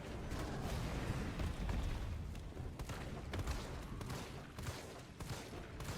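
Weapon fire in Resident Evil 3 Remake: a series of faint, sharp shots spaced irregularly over a low, busy game background, with several distinct cracks standing out from the murk.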